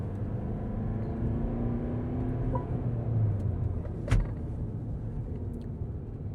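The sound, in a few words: Mercedes V-Class V300d van driving during braking test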